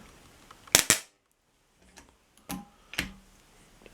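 A VEVOR spot welder firing on a workpiece gives sharp, close snapping cracks: a tight double crack, a pause, then two more separated snaps with faint clicks between them.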